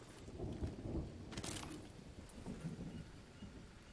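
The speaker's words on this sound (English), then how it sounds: "It's starting to rain." Rain beginning to fall in the jungle survival game Green Hell, a steady soft hiss with low rumbling thunder beneath and a brief brighter burst of rainfall partway through, heard alone without talk.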